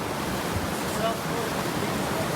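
The South Fork of the Kings River rushes past at a trail crossing near Mather Pass. A dense, steady roar of fast water fills the whole moment, loud and close, with no break.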